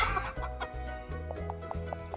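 Game chickens cluck in On Your Tail, a run of short repeated clucks over a steady musical background, moderately loud and close, with no talking.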